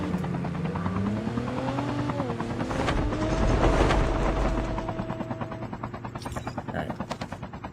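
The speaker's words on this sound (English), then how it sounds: "There's the shots on the vehicle against Tag." Helicopter-like rotor drone mixed with bursts of gunfire on a vehicle in Call of Duty: Mobile during a ranked esports match, dense and loud throughout with a commentator talking over it.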